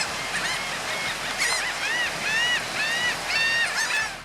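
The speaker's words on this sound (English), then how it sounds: "Fiercely territorial, herring gulls will dive bomb any perceived threat to their nests" Herring gulls call in a flurry of loud, repeated yelping cries that overlap at close range, with surf washing steadily underneath.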